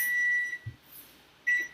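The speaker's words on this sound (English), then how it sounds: "We've got our timer going off." A kitchen timer beeps twice in short, sharp, high-pitched bursts a second apart, close and clear in a quiet kitchen.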